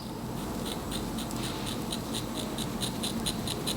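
Scissors snip repeatedly at an angle through synthetic wig hair, producing a steady run of crisp, close cutting clicks with no speech.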